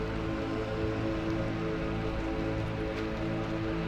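Steady, unbroken patter of rain falling in a video game, a soft wash of drops laid over a constant low tonal drone with no voices.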